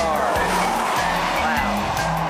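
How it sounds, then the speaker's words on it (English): A car drives past on a Death Valley road, its loud tire and engine roar filling the scene and steady throughout, with someone talking over it. "Here comes a car."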